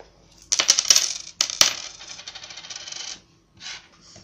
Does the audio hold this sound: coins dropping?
yes